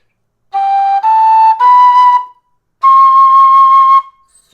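A tin whistle plays the note C natural in the second octave, sounded as three short connected tones, then one longer sustained tone after a brief pause, bright, clear and close.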